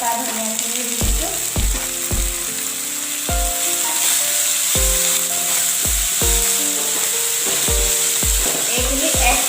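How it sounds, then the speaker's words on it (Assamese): Madhusoleng leaves and chopped fresh coriander fry in hot oil with five-spice in a pan, a steady loud sizzle broken by repeated scraping stirs of the spatula against the pan. "এইখিনি 1 মিনিটমানৰ কাৰণে আমি ভালদৰে ভাজি দিম"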